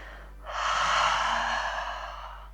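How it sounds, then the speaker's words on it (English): A long, slow breath drawn in during a yoga flow, swelling into a broad airy rush that peaks and gradually fades, close to the microphone with a low steady hum underneath and no talking. "Deep breath in through the nose. Long, slow exhale out the mouth."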